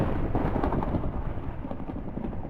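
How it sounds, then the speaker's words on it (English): A thunder rumble in Minecraft Bed Wars on Bedrock marks a bed being destroyed, a low, dense roar rolling steadily through the whole stretch with no voices over it. "it gives a cool thunder sound"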